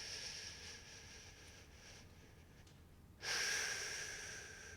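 A long, deep diaphragm breath, heard as a steady airy hiss. It swells abruptly into a louder, fuller rush of air partway through, then slowly tapers off. No voice is heard.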